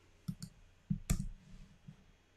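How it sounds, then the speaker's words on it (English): Sharp computer mouse clicks placing points on a stock chart: a few close, crisp clicks in small clusters, then a louder double click and a faint final one, in a quiet room. "So click, click, click."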